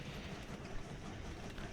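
Trains run past each other in the Train Valley video game, giving a brief, steady, low rumble of rolling wagons with no speech.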